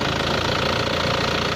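An Isuzu Panther diesel engine is revved with the throttle held, giving a steady, dense knocking diesel roar close by with no pauses and no voices.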